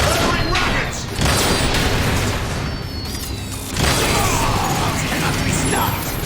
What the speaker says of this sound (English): They're firing rockets!